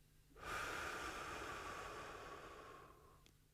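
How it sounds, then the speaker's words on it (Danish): Slow exhale through the mouth during a relaxation breathing exercise: one long, steady, breathy rush of air lasting nearly three seconds, close and soft, fading gently at the end. "Og pust langsomt ud gennem munden."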